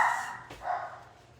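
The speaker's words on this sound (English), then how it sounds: "sorry, someone's coming home, and that's my dogs" Dogs bark at someone arriving home, a couple of loud barks at the start and another burst shortly after, heard indoors at close range.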